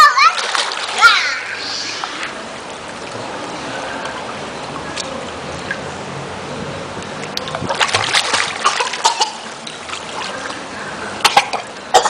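A child splashes while swimming, with bursts of water splatter and trickling, a cough and a voice close by, and outdoor ambience between the splashes.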